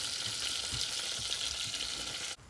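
Flour being stirred into melted butter for a roux, a continuous bright sizzle with soft scraping strokes of mixing, steady and close before cutting off abruptly near the end.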